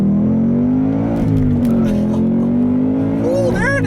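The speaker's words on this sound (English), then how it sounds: "let's do a first gear pull just to see how that feels" Supercharged Ford Mustang Bullitt engine with its unique intake manifold revs loudly and steadily through a first-gear pull, a strong rising drone up close, with a brief higher whine near the end.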